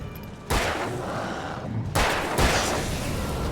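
A gunshot from the player's weapon in the Alan Wake video game: two sharp, loud broadband blasts about a second and a half apart, each trailing off in a brief echoing tail.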